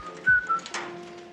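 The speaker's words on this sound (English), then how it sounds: "whistles to himself because he's generally high-spirited" Rocky, a self-assertive character entering a room in a film scene, whistles a short, bright tune to himself, two sustained notes standing out over a faint background of room sound and music.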